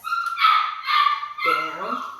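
A pet dog named Birdie vocalizes during obedience training, giving a string of high, tonal whines and yips in three close bursts, the last sliding in pitch, loud and near.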